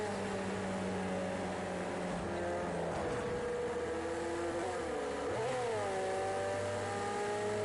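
A race car's engine in the racing game Project Cars 2 drones and revs steadily, its pitch dropping and climbing again through quick gear changes, loud and continuous with no voices.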